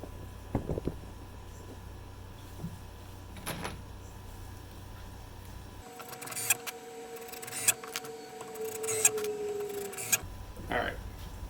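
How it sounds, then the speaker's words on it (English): Cordless drill driving screws into a wooden sign display, its motor whining in steady bursts with a clutch ratcheting near the end, after earlier knocks and handling noises. "if you heard a grinding noise, it's just that my drill has a clutch on it, so it doesn't over drill"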